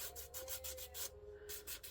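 Hand sanding a thrifted Goodwill item, quick back-and-forth strokes in a steady rhythm, close and clear, with a short pause in the middle.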